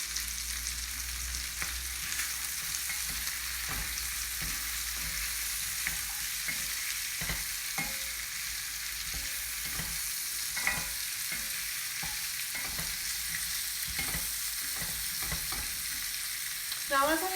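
Chicken and chorizo jambalaya with rosemary and thyme sizzles steadily in a hot pan, with repeated scraping stirs of a spoon cutting through the constant frying hiss.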